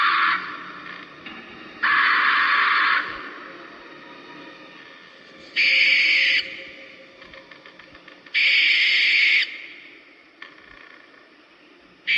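A Spirit Halloween skeleton owl prop runs its demo, giving loud bursts of electronic sound that start and stop abruptly, separated by quieter stretches with a faint mechanical hum.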